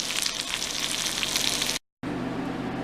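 Keto quesadillas, tortillas layered with cheese, fry in a pan with a steady, loud, broadband sizzle that cuts out briefly, then resumes a little quieter.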